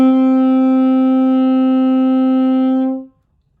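One sustained saxophone note A, fingered with the first two left-hand fingers, rings out clean and steady for about three seconds with no other sound, then stops.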